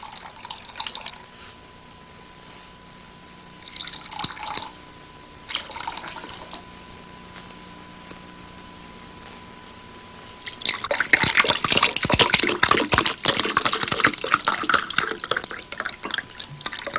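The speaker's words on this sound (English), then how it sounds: "Dick's poured you a drink" A drink is poured into a glass, heard as faint early trickles and then a steady, fairly close splashing pour near the end, with no talking.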